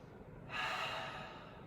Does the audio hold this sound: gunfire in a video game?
no